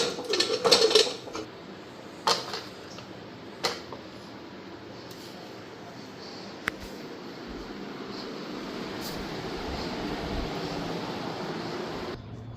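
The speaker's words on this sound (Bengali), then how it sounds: "এখন প্রেসার কুকারে ঢাকনাটা লাগাই দিই" A metal lid is fitted onto a pressure cooker with a few sharp clanks and rattles at the start, followed by a long, quiet stretch of steady kitchen background noise.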